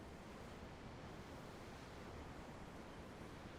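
Ocean waves in Tales of Arise wash in a steady, broad surf roar, continuous and soft, with no voices over it.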